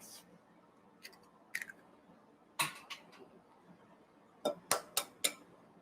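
Large eggs cracked one after another against a container for a gluten-free low-carb bread, several sharp taps and cracks in a loose irregular rhythm that grow louder and closer toward the end, over a quiet kitchen background.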